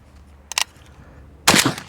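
An AK rifle fitted with a Delta-tek muzzle brake fires two loud, close shots, a short sharp crack followed about a second later by a heavier, longer blast, with the start of a third at the end.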